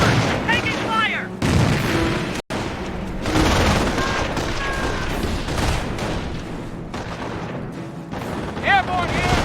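Dense battlefield din from Company of Heroes: rolling bursts of gunfire and booming artillery fill the scene continuously, with a brief sharp cutout midway, while soldiers shout over the chaos.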